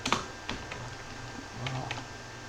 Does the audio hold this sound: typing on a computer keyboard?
yes